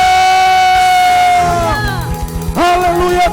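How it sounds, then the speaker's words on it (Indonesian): Church worship congregation erupting in loud, excited cheers and whoops, many voices rising and falling together in a dense, close crowd roar with sustained sung or shouted tones. "sorak-sorai yang meriah untuk Allah kita, Allah yang luar biasa"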